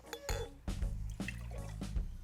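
Pure cream poured into a jar to make butter: short splashing glugs of liquid with light glassy clinks, close but quiet, in a few uneven bursts with no talk.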